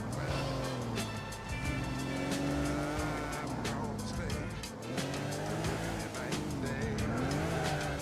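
A car in Grand Theft Auto IV drives with a revving engine whose pitch rises and falls, broken by squealing, skidding tires, while someone talks over the game sound.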